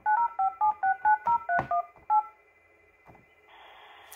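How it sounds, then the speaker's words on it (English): A Fanvil i53w touchscreen desk phone dials a number, giving nine quick, evenly spaced DTMF touch-tone beeps and then one more after a short gap, followed by a faint hum and a soft hiss. "you can push the line button, and then you can dial any 10-digit number from here"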